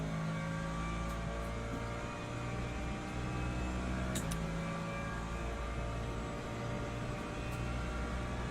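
Aston Martin race car engine in Le Mans Ultimate, a steady droning hum of the motor held at a constant pitch with little change throughout, fairly quiet and alone.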